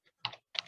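Two quick bursts of typing on a computer keyboard, close and clear, each a short cluster of clicky keystrokes separated by brief silence.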